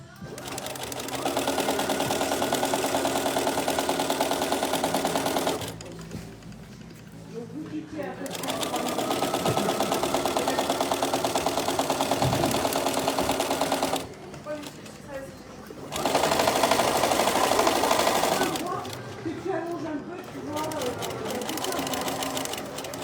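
A sewing machine stitches a tote bag with French seams, a steady close whirring hum in long runs broken by short pauses, while someone talks over it in French.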